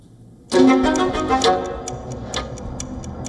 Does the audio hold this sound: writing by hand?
no